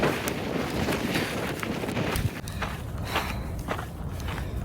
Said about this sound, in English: I'm using so much extra effort to push through the wind.